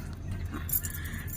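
A bunch of keys jangles briefly at close range, a short burst of light metallic clinking over a steady low background hum.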